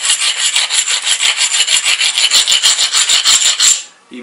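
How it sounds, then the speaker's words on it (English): Obsidian slab blade edges ground against an abrasive, a loud, close, rhythmic rasping scrape in quick regular strokes that stops abruptly near the end. "We're going to take another pass, which obviously requires another grind."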